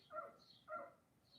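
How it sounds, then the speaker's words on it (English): Two sharp barks from a hound and border collie mix dog, a short pair close together, fairly faint and a little distant, with a higher yip trailing at the end. "She, as you can hear, she's got the hound bark."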